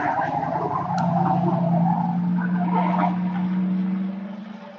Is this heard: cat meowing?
no